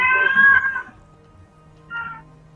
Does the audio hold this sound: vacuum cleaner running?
no